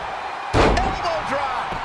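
A spin kick off the ropes landing in a wrestling video game: one heavy, booming slam strikes suddenly after a quiet moment, followed by a voice talking over the fading ring noise.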